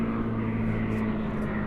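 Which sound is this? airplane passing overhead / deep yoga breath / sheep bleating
airplane passing overhead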